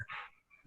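A dog being played with gives a short, close whimpering yelp followed by a softer, fainter whine, in a quiet setting with no talking.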